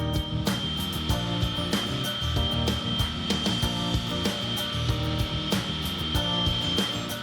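Large format garden pavers being trimmed to different widths with a power saw, a steady loud grinding whine running throughout with repeated sharper bursts as the blade bites into the stone.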